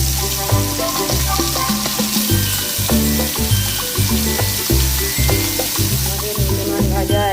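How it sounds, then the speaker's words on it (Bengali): Lote fish (Bombay duck) fry in hot oil, a steady crackling sizzle throughout with small pops, while a voice talks over it with music playing in the background. "এরপর আমরা একটা একটা করে মাছ ওই অয়েলের উপর ছেড়ে দিচ্ছি।"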